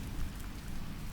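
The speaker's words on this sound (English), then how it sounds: "Each raindrop makes the smallest of sounds as it lands, a tiny, gentle percussion" Soft, steady rain falls on a wide river, a dense, even hiss of countless small drops with no pauses, gentle and continuous throughout.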